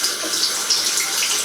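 Water runs steadily from a bathroom tap into a sink during a shave, a loud, close, continuous hiss and splash with no voices.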